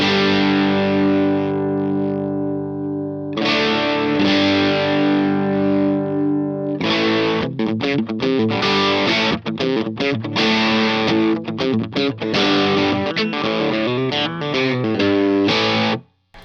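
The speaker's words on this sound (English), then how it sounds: "So let's hear now the Blues Driver inside the JB2." Electric guitar runs through the Boss Blues Driver setting of a JHS Angry Charlie JB2 overdrive pedal. Long ringing distorted chords give way to choppy, rhythmic riffing for about sixteen seconds with no voice, then cut off abruptly.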